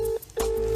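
A phone on speakerphone plays two steady dialing tones separated by a short gap, close and loud, with no voices.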